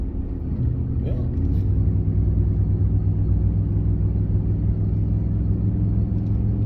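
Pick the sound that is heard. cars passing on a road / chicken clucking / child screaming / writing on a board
cars passing on a road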